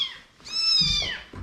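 Cats meow close by: a faint call fading out, then a loud, drawn-out meow followed by a shorter one, with light rustling underneath.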